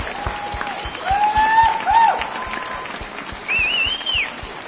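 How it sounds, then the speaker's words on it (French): Wedding guests give the bride and groom a sustained ovation of applause, a dense steady clapping crowd with a few whistles and cheers rising over it. "je vous propose qu'on donne tout de suite une ovation aux mariés"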